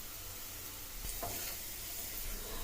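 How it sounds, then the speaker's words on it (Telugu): Vegetables stir-fry in a pan with soy sauce and pepper powder, giving a dense, continuous sizzle with a brief scrape or clatter partway through, close and steady, no voices. "ఇప్పుడు ఇవన్నీ దూరగా వేగి ఫ్రైలాగా అవ్వాలన్నమాట"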